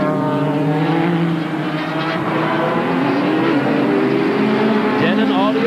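A 1992 IMSA GT Championship race car, driven by David Tennyson at the G.I. Joe's/Camel Grand Prix, howls loudly and continuously with a rising and falling engine pitch, and a commentator's voice comes through faintly underneath.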